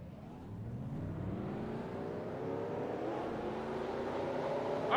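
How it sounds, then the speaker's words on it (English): Race car engines in a NASCAR video game rumble and rev steadily and loudly, their pitch climbing gradually as the field prepares to roll off for a 100-lap race. "Drivers, start your engines!"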